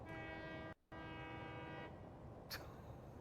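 A long train rolls past in the video game Satisfactory, its steady mechanical drone briefly cut off by a short gap, with a sharp metallic burst near the end.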